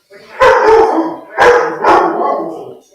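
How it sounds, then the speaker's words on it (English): Several dogs barking and howling in loud, overlapping bursts, two clusters of barks close to the microphone in an indoor home setting. "That's my dogs. Christ. They're barking."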